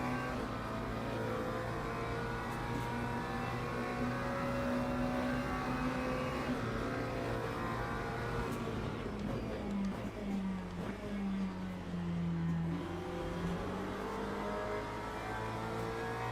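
In the Le Mans Ultimate racing game, a race car engine revs high and steady, then dips and climbs again through a chicane, with the sharp whine of other cars close around it.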